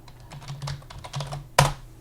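Typing on a computer keyboard while working in Excel: a close run of quick light key clicks, ending in one louder, sharper keystroke.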